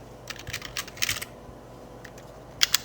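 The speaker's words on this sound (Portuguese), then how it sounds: "eu estou perdendo um tempinho digitando esses números" Quick bursts of typing on a computer keyboard as numbers are entered, with clustered clicky keystrokes, short pauses between runs and a couple of sharper taps near the end, close and fairly clear.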